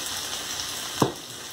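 Steady loud sizzle of a dish being stir-fried with salted fermented seafood, garlic and oyster sauce in a hot pan, with one brief scrape of stirring partway through.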